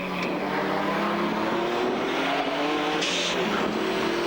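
A rally car in the Targa NZ 2006 tarmac rally, its engine droning loud and steady from close by with shifting pitch through gear changes and brief tire noise.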